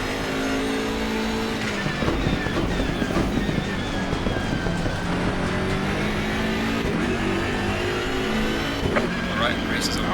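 Race car engine of a BMW M6 GT3 in Assetto Corsa Competizione at Mount Panorama, droning steadily and loudly with rising and falling revs throughout, with a brief tyre squeal, while someone talks over it.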